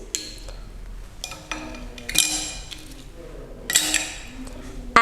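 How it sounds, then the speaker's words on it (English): A handful of ice cubes drop into a glass, giving a few separate bright clinks and rattles spread over several seconds, fairly close and moderately loud, with soft background noise between them. "Fill a glass with ice cubes."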